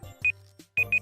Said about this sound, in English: That's our timer.